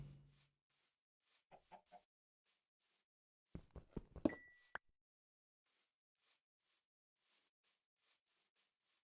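A Minecraft chicken gives a few short clucking calls in the game, quiet and spaced out, with a louder cluster of game sounds in the middle of an otherwise near-silent stretch.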